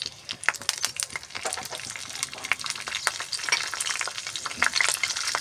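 Cumin seeds, curry leaves and bay leaves fry in vegetable oil, giving a steady close sizzle with dense crackling pops and occasional stirring scrapes throughout.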